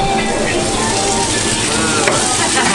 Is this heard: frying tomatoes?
yes